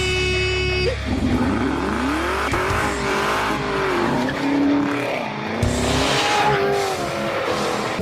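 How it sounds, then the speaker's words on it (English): A powerful Chevrolet Camaro ZL1 speeds hard with its tires spinning and skidding, loud sustained engine roar rising and falling in pitch with squealing rubber throughout, no voices. "he's driving his dad's Camaro ZL1, which is an extremely powerful car and even controls the car when its tires spin"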